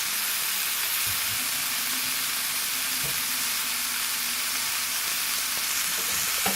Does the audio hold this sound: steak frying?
yes